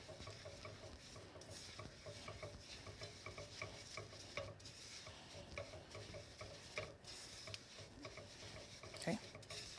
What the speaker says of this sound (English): I'm gonna use a spoon and just mix the butter with the sugar.